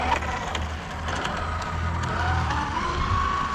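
Kamtar FG Street Truck R-Snake R16Pro 4x4 RC car on a 16S 530 kV setup driving on a track, giving a faint electric motor whine that rises in pitch near the end, with light rumble and scraping.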